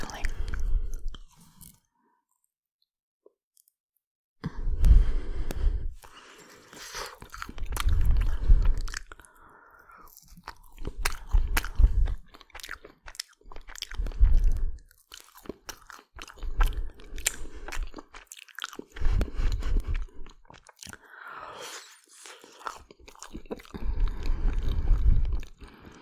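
Crunchy filled biscuits are bitten and chewed in close, loud bursts of crunching separated by short pauses, with softer chewing between bites and occasional quiet speech.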